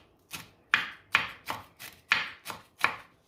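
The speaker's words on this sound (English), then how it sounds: "chop the parsley." A knife chops parsley on a cutting board in a steady, even rhythm of about eight crisp, close knocks over a few seconds, each with a short dull thud against the board and no other sound.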